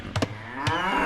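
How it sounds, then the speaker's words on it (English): Cows moo in the strategy video game Age of Empires II, with a few short, close lowing calls over a steady hum of game background sound. "And I want the cows to be closer."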